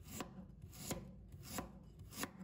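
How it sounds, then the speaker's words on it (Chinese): A knife slices a block of peeled ginger into thin slices on a cutting board, with about four evenly spaced sharp chops standing out over a soft background. "再准备1块去皮的生姜，把它切成薄片"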